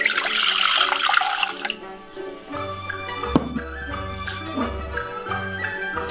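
Three cups of water pour into a pot for sweet ginger soup, starting as a bright splashing rush that gives way to lighter trickles and clinks of kitchen handling, close and without talk.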